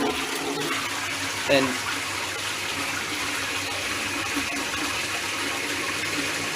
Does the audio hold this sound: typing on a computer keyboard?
no